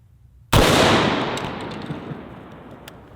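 A single loud .50 Beowulf rifle shot fired into ballistic gel, a sharp close blast followed by a long decaying outdoor rumble and reverb tail.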